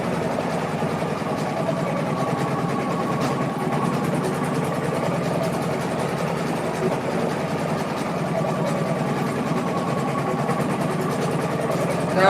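An embroidery machine stitches an 85,000-stitch Halloween witch design through four layers of tote bag fabric, giving a steady, continuous mechanical whir and drone that stays close and even throughout with no talking.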